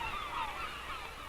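Kittiwakes call from cliff nesting ledges, a dense, continuous chorus of honking, wavering cries from many birds blending at moderate distance.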